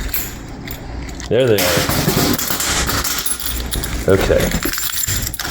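Keys jangle while coins are handled at a laundromat machine, with a person talking over the metallic rattling throughout.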